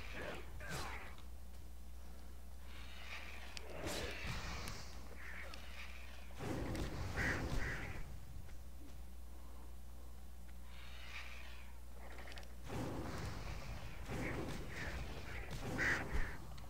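Birds quacking like ducks in World of Warcraft, repeated bursts of game creature calls over a steady background hum, with speech in the mix at times.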